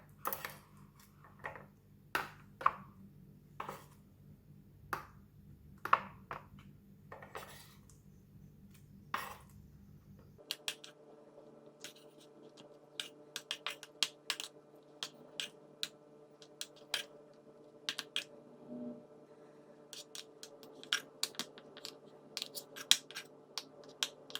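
Ripe mango cubes are dropped one by one into a plastic ice tray, giving small irregular taps and clicks over faint background hum, close and quiet with no talk.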